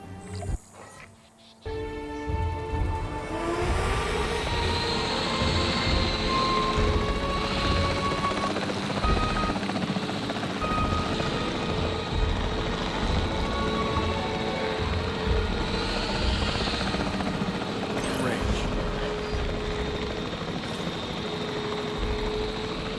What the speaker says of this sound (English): The priority needs to be tranquilizing it with the capture team chopper.